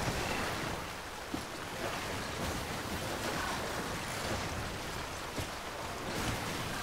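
River water rushes steadily in the video game Death Stranding, a dense continuous wash of flowing water with faint wind, no voices over it.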